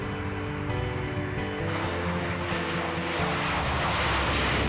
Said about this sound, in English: we were given the opportunity to observe the test flight of the Gripen